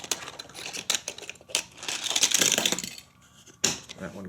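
A plastic Hot Wheels toy car crashes at the bottom of a City Stunt Garage ramp, making a close series of sharp plastic clicks and clattering rattles in uneven bursts.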